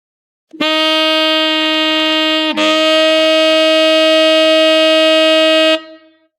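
A single sustained saxophone F note held steadily using the low B-flat fingering, with a brief shift in tone partway through, then released.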